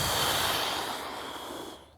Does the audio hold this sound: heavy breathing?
yes